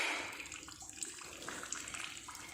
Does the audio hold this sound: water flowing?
yes